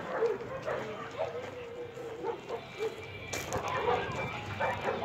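A Menchi dog barks in a series of short, moderately loud yaps spread across the moment, with chickens and other background noise nearby and no clear talk over it.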